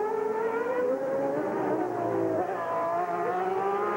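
Nigel Mansell's Ferrari Formula 1 car at the 1990 Australian Grand Prix in Adelaide, a high-pitched V12 engine whine sweeping in pitch as the car passes, loud and steady with no talk.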